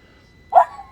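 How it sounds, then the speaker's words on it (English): A single dog barks once at a man tossing rocks on a beach, a short sharp bark rising from quiet in the middle of the moment and trailing off. "So then the dog he's barking at the rock throwing guy and the dog on the beach."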